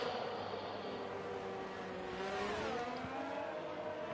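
Ferrari Formula 1 car in a racing video game sweeping past at Imola, its engine note rising then dropping as it goes by, over a steady layer of other cars droning around the circuit.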